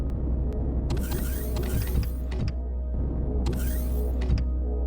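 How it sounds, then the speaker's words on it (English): A sci-fi door in Empyrion Galactic Survival slides open with a mechanical whir and creak, two sweeping motor passes over a steady low engine hum, loud and unaccompanied by speech. "Let's open the other door up."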